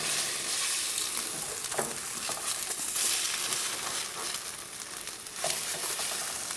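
Breakfast sizzling steadily in a hot pan, a continuous close crackle and hiss with a couple of brief scraping clatters as it is turned over.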